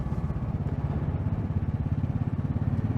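A Royal Enfield Classic 500 single-cylinder motorcycle thumps along a green lane at a steady, rhythmic low pulse, engine close and moderately loud with faint clatter and no talking.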